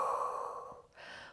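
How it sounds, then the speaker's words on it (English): A deep, audible breath during a guided Pilates relaxation for scoliosis, a long airy exhale followed by a shorter breath, close and alone with no talking. "Deep breath in. And exhale."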